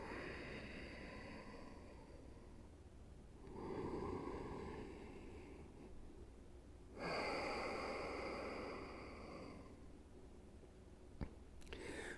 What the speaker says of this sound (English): Take 2 deep breaths. Inhale deeply. And exhale deeply.